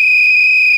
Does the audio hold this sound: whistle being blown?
yes